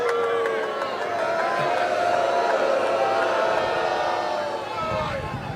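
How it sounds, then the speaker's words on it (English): Large outdoor political rally crowd in Mosinee, Wisconsin, cheering and whooping loudly in a sustained wall of noise, with scattered shouts rising and falling across the span. "What an incredible crowd."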